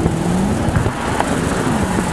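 Mercedes AMG 63 with 475 horsepower, a steady low engine drone heard from inside the car as it cruises, continuous and fairly loud without speech.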